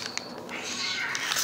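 A cat mews in short, high-pitched calls, a few brief cries followed by a longer drawn-out meow, moderately quiet against a soft room background.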